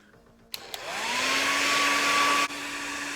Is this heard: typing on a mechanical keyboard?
no